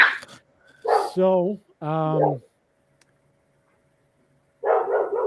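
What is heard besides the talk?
dog barking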